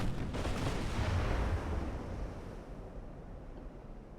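Heavy warship guns firing super heavy shells in Ultimate Admiral: Dreadnoughts, a deep booming blast that rolls out into a long fading rumble with sea and wind noise beneath.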